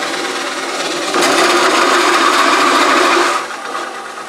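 A coring knife cuts into a wooden bowl spinning on a lathe, giving a loud continuous grinding whir that swells midway, holds steady, then eases off near the end.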